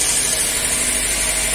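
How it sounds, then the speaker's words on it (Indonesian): A Daihatsu Luxio engine idles steadily during a charging-system repair, giving a constant, even mechanical hum and vibration with no change in revs and no voices. "Nih, ketika mesin hidup"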